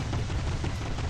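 A warship's cannon firing in a naval combat video game, heard as a dense, loud, continuous low rumbling blast that fills the whole short moment with no speech.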